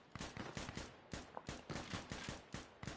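A full magazine of rifle fire in Insurgency Sandstorm, a steady series of sharp shots at an even rhythm, loud and close, filling the clip without talk.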